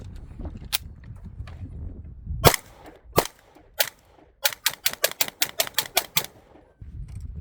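A Shadow Systems DR920P pistol fires 124 grain +P hollow point rounds outdoors: a few spaced shots, then a quick string of about ten sharp, loud cracks in close succession.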